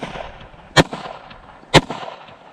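Two sharp pistol shots from a Glock Gen 3 clone fired at a small steel plate, spaced about a second apart, loud and close with a brief ring after each.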